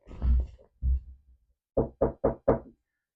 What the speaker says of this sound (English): You knock on wood because apparently that means you won't jinx yourself